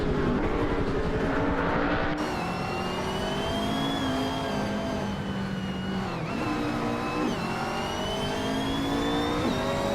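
Several race car engines rev loudly and continuously in a racing game, with harmonic tones climbing and dropping as cars shift gears and jostle wheel to wheel, close and dense with no talking.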